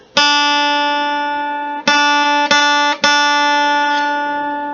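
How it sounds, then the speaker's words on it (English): A single guitar note on the fifth string, third fret, plucked and left ringing, then picked again three more times, clear and sustained with no voices. "your 3rd finger on the 3rd fret of the 5th string, it should make a noise like this"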